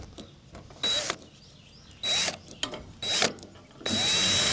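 A power drill runs in four short bursts, driving screws into the sheet-metal panel of a York gas package unit during heat exchanger work, with quiet handling noise between the bursts.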